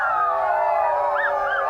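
Schoolchildren outdoors howl together, voicing a group imitation of baying hounds: a dense chorus of wavering, overlapping high wails that rise and fall continuously and loudly.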